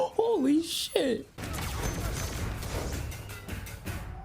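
Gunfire from a foggy battle scene in the Star Wars series Andor: a steady, dense stretch of rapid blaster-like shots and impacts runs under a short reacting voice heard at the start.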